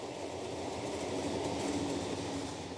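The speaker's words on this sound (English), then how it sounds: "on the 5th of April 1855, without ceremony, the first train crossed the viaduct" A train rolls steadily across the Boyne Viaduct, a wrought-iron railway bridge on the Dublin to Belfast line, as a continuous low rumble of wheels on rails at moderate distance, with no other sounds over it.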